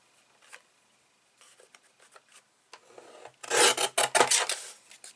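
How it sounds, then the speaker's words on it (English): Paper border being trimmed from a vintage baby girl album page, starting with faint scattered scratchy snips and rising to a louder, close run of rasping cuts near the end. "I'm going to trim that off just so I can keep it for something else"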